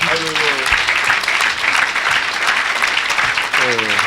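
A congregation applauds to acclaim the Lord at a church healing service, dense and sustained clapping from many hands filling the space, with brief voices rising over it at the start and near the end.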